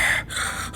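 A voice imitates heavy, loud breathing heard in bed at night, two close, breathy gasping inhales in under a second.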